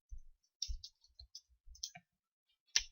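A computer mouse clicks repeatedly while a new Visual Studio project is set up, sharp close clicks in irregular pairs and singles with short silent gaps between.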